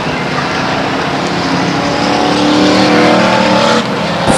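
Race cars at Stockton 99 Speedway roar around the oval in a dense, loud pack, a sustained blend of many engines swelling slightly as they pass close by.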